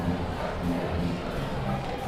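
A football game crowd in the stands at a North Shore night game against The Woodlands, a dense steady roar of many voices, loud and continuous throughout.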